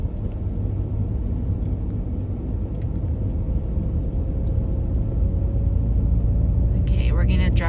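Car interior road noise while driving through an old neighborhood with an outdoor market in Pyeongtaek, South Korea: a steady, loud low rumble throughout with a faint tonal whine, and a brief brighter clatter near the end.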